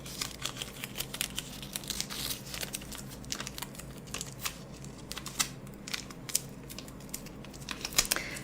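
Tape is handled close up for ASMR, with soft crinkling, peeling and tapping sounds arriving in irregular bursts over quiet background.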